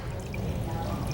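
Green food-coloured rubbing alcohol is poured into a layered density column of water and oil, a brief soft liquid trickle close by.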